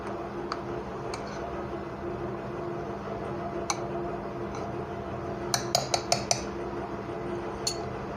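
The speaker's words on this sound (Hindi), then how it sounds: "और इन सबको अच्छी तरह मिक्स कर देंगे।" A spoon stirs chilli powder, spices and ginger-garlic paste in a bowl, with sparse light metallic clinks and taps over a steady low background hum and a quick cluster of clinks near the end.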